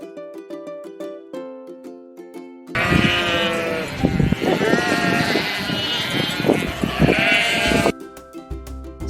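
Sheep bleat repeatedly in a concrete-floored sheep pen, loud wavering calls overlapping through the middle, with a few sharp clanks and shuffling noises; musical tones sit before and after the animals.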